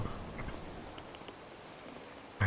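Rain falls in stormy weather in Animal Crossing: New Horizons as a soft, steady wash with faint patters, ending in a sudden loud burst.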